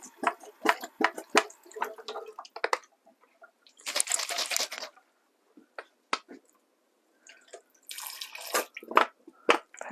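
Water poured in bursts into a cooking pot of Boston baked beans, with short gushes separated by clinks and handling noises, close and fairly loud.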